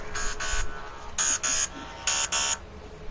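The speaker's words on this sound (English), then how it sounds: "Why is there an alarm going off?" An alarm going off on an old phone: paired electronic buzzing beeps repeating in three double bursts, faint and steady over a low background hum.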